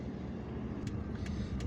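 Cars idle and creep through a traffic jam in Algiers, a steady, muffled low rumble of engines with a few faint higher hisses, fairly quiet and continuous with no voices.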